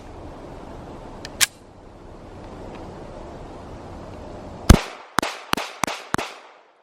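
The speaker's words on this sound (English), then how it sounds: "I shot the Walther the best when I was shooting it faster" Walther PDP F-Series pistol fired at a shooting range: one sharp shot, a pause, then five rapid loud cracks in quick succession with short decays.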